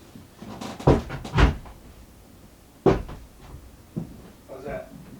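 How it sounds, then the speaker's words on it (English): A door inside an old house is pushed shut, giving a few close wooden thumps and a sharper closing knock, with quiet movement and low voices around it. "Close this door."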